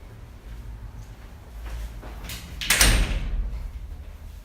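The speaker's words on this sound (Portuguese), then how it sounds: "Fecha a porta." A door in the film Citizen Kane is pushed shut, a rising rush and scrape ending in a loud thud with a brief rattle, over low background rumble and no speech.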